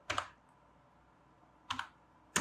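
Short bursts of typing on a computer keyboard as a project name is entered: three brief clusters of crisp key clicks separated by pauses, close and fairly quiet, with no voice.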